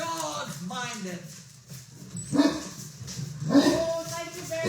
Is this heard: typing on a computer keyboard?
no